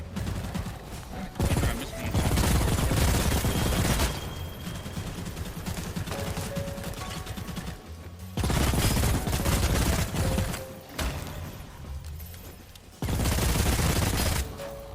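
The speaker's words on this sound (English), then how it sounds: "you can actually shoot your own trap, like in this clip here" Bursts of rapid video-game gunfire in Bloodhunt, three heavy volleys of shooting at a player's own trap, loud and close, with quieter combat sounds between them.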